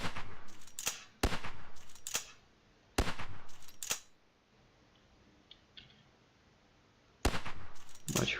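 Bursts of rapid video game gunfire with explosive rounds, several sharp clustered shots in quick strings separated by short quiet gaps, loud and close.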